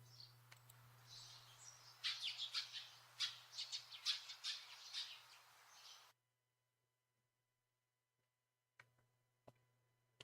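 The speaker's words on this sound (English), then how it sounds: "So many of these little little birds." Small birds in the visual novel Haru no Oto chirp and squawk in a rapid cluster of bright calls over a low hum, then go silent apart from a few faint ticks near the end.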